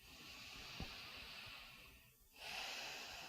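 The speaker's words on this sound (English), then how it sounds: "I want to invite you to take a deep breath in and a deep breath out." A slow, deep breath drawn in and then let out, soft airy hiss rising, briefly pausing, then swelling again, faint and close in a quiet room.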